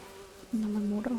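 Mosquito swarm in The Witcher 3: a low background hum swells into a clear, close insect buzz that holds steady for under a second.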